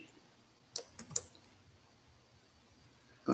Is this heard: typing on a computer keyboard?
yes